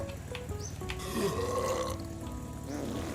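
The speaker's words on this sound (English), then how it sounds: "No, it just burps." A character in The Long Drive lets out a single drawn-out, gurgling burp, fairly close and alone over a low background hum.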